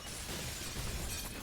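Glass shattering under a burst of gunfire in the game CS:GO, Glock shots breaking windows on the Nuke map during a tournament match; a dense, continuous crashing and crackling that stays loud for the whole stretch.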